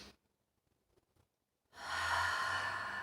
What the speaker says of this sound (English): But you're going to breathe in.